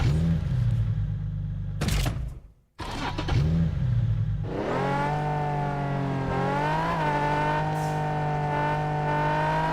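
A Nissan 350Z in the Fortnite video game revs loudly up close, with a rising roar, a brief cut-off and drop, then a sustained high engine drone with shifting pitch.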